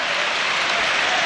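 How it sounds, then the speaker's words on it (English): A football stadium crowd applauds steadily as substituted player Gomez walks slowly off the field in a Premier League match between Wolverhampton Wanderers and Manchester City, a dense, continuous wash of clapping with no voices. "He's slowly walking, taking the applaud of the crowd."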